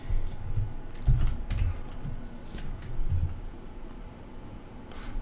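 Mouse buttons click repeatedly while buying items in a video game, a quick irregular run of soft taps over a steady low background hum.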